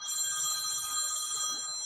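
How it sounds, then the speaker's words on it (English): A phone rings inside a Mazda 3 Skyactiv Turbo, a steady, bright electronic trill, moderately quiet and unbroken, with no talk over it. "That's your phone, actually."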